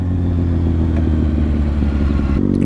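Kawasaki Ninja ZX6R sport bike engine rumbling steadily up close, then the note drops suddenly near the end as the rider comes off the throttle.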